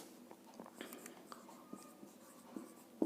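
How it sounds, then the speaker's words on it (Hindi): Pen or marker scratches across a board in a classroom-style lesson, a steady run of short strokes and taps at close range with no talking. "यहां लिख देता हूं, चलो"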